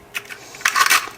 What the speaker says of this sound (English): I'll go ahead and just crack those in here so they're ready